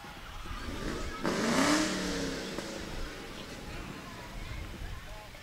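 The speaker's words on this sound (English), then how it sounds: "Which one of those cars is sounding so good?" A parade car's engine revs up loudly nearby during a July 4th parade, a rising surge that swells and then settles into a steady idle rumble amid crowd noise.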